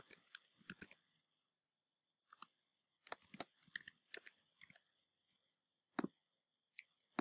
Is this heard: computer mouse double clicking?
yes